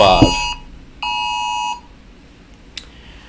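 Phone alarm beeping, a bright electronic tone that sounds once in a steady held burst after a short chirp, close and clear, followed by quiet and a faint click.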